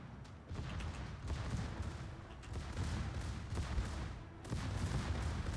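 Naval gunfire from warships in a World of Warships match rumbles in a continuous low battle din, muffled booms and distant salvos rolling over one another at moderate loudness, with no one speaking.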